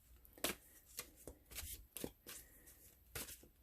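Slightly curved tarot cards are shuffled close by in quick, irregular riffling bursts, soft and papery, with brief pauses between them and no talk.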